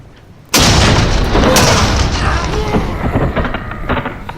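A ship's cannon fires from the gun deck in a radio drama, a sudden loud boom that rolls into a long rumbling roar with creaks and clatter of battle beneath.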